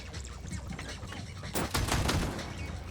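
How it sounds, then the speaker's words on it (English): Jormungandr charge shots fire in the vehicle combat game Crossout, a low rumbling backdrop that breaks into a burst of heavy, crackling blasts partway through. "The charge shot is actually really nice."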